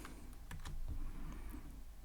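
A computer keyboard clatters with a handful of crisp, close keystrokes typed in quick succession, with a soft low hum beneath and no talking.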